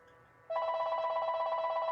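A home telephone rings. A steady electronic tone starts abruptly after a short quiet moment and holds at an even, fairly loud level.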